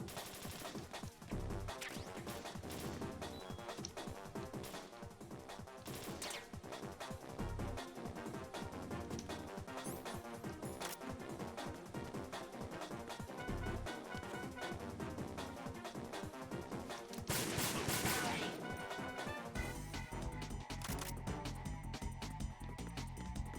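Gunfire in the VR Missions of Metal Gear Solid: rapid, repeated shots crackle almost continuously with a few heavier bangs, loud and close over busy game sound.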